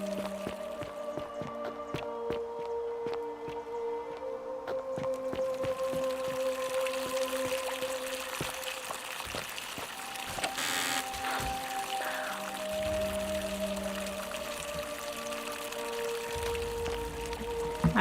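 Continuous flowing water inside a location in the video game The Forgotten City, a steady wash with scattered drips and small clicks, fairly quiet and without talk.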